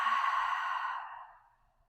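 A single deep, breathy exhale through the mouth after a nasal inhale, close and soft, fading out smoothly over about two seconds in a quiet room during a yoga stretch.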